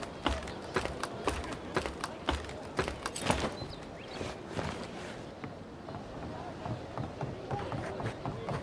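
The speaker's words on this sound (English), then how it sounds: "I hear unfamiliar footsteps" Footsteps in a cosy Christmas role-playing video game, a quick run of crisp, close taps that thins out into softer steps under background game sounds.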